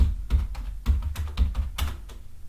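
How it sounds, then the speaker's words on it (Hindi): Typing on a computer keyboard in Notepad, a close series of quick, irregular key clicks and taps with short pauses between bursts, with no talking. "मैं टाइप कर लेता हूं"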